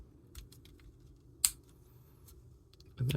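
Plastic parts of a Transformers Magmatron toy are folded into place, giving faint, scattered small clicks and one sharp snap near the middle, then a louder handling rustle at the very end.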